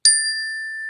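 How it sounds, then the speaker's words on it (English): A meditation chime struck once, ringing out clear and bright, then sustaining a long, steady sustained tone that slowly fades without dying away, alone in silence. "I'm going to start this with the sound of the chime."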